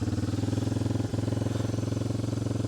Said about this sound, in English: So as you can hear, engine's nice and quiet